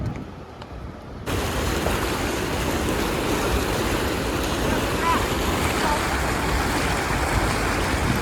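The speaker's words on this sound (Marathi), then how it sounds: "एवढा फ्लो आहे ना की खूप जोराने जात आहे याच्यावरून बंधाऱ्यावरून" Strong river flow rushing over a bandhara weir, a steady, loud, broadband roar of churning water that swells in after a quieter opening second and holds constant.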